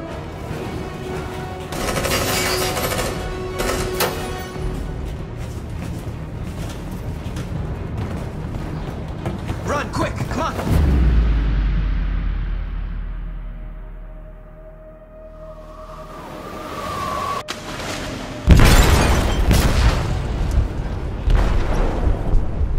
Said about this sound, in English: detonated an explosive in the hold. The ship is sinking, sir.